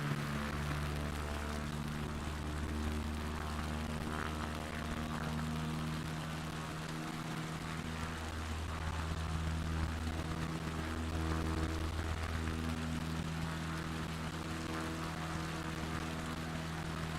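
A propeller airplane engine in Microsoft Flight Simulator 2024 drones loudly and steadily with a deep harmonic hum, continuous and unbroken throughout.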